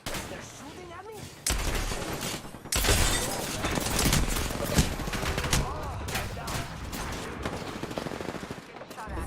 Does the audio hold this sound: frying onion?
no